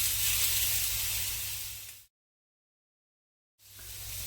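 A steak searing in a hot pan, a steady bright sizzle that cuts out abruptly to total silence for about a second and a half, then resumes at similar loudness.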